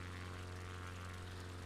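A Bonanza propeller plane in Microsoft Flight Simulator 2020 cruises among mountain peaks, its piston engine giving a steady, unbroken buzzing drone with a strong low hum, loud and constant throughout.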